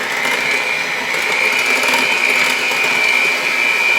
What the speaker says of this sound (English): I'll grab my mixer again.